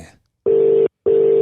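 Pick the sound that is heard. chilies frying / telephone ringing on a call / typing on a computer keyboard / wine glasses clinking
telephone ringing on a call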